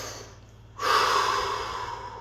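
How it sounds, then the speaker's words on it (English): A single deep inhalation taken during a guided meditation, drawn in sharply and close after a moment of near silence, then held as a long, soft breathy rush with no talking. "Take a deep breath."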